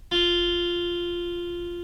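A clean guitar note, fretted just behind the fret, plucked once and ringing clear and steady as it slowly decays, heard alone.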